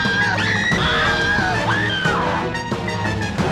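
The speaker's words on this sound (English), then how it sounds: "Those screams are so satisfying." Screams and yells ring out in a video game, several loud overlapping shrieks with rising and falling pitch over a continuous noisy backdrop.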